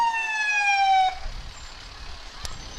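At a Memorial Day parade, a 1989 Mack fire engine sounds its siren in a loud, close wail that winds down after about a second, followed by low rumbling and a sharp click.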